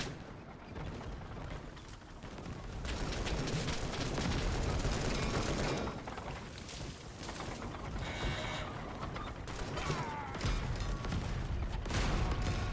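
Video game machine gun fire rattles out in dense, sustained bursts with heavy impacts and explosions layered over one another, loud and continuous with brief lulls between volleys.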